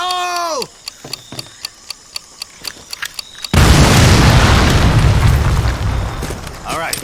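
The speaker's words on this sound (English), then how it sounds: "Tommy, get a demo charge on that artillery and let's keep moving." A demo charge blowing up an artillery piece in the Medal of Honor Pacific Assault war game: a steady ticking countdown with a voice calling out, then a sudden loud, roaring explosion that rumbles on for several seconds.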